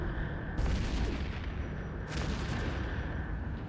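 Battleship guns firing in the space video game Eve Echoes: two loud, booming volleys about one and a half seconds apart, each a sharp burst with a fading tail, over a constant low rumbling hum, with no talking.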